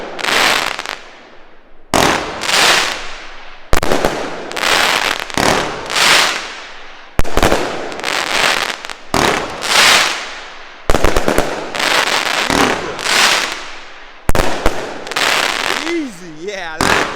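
Fireworks from Volt, a new German brand, are set off at a bonfire night display. They go off in loud repeated volleys of crackling bursts, each lasting a second or two with short gaps between, and voices are heard near the end.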